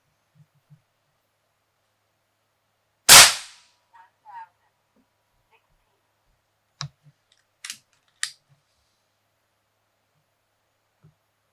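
An AEA Challenger Pro .30 caliber air rifle fires a slug into a 2x4 board, heard as one loud sharp crack in otherwise quiet surroundings, followed later by a few faint clicks and light handling noises.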